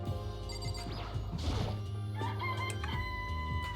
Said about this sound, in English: It's a chicken. Don't you like I can say that for sure.